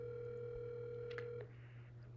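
Telephone ringback tone during an outgoing call, a steady electronic tone that cuts off partway through, leaving a quieter hum, over a low background drone.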